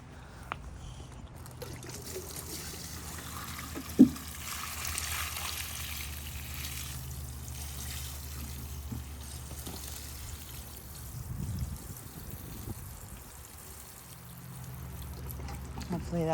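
Water pours and trickles onto a bougainvillea plant in a yard, a soft continuous stream with a small splash, faint and nearby.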